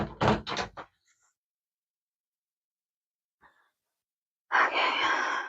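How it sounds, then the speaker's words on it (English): A door being pushed shut all the way after a cat is let out, with a few close thuds and knocks at the start, then near silence, a faint rustle, and a breathy sigh at the end. "I'm shutting the door."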